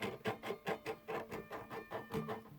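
Unpolished frets on a Fender Redondo acoustic guitar give a soft, raspy scratching heard up close, repeating in a quick even rhythm of about a dozen short sandpapery strokes at low volume.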